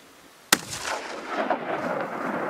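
A rifle fires a single loud, sharp shot at a Dall sheep on a Brooks Range hunt in Alaska, and the report rolls away in a long echo across the open mountains.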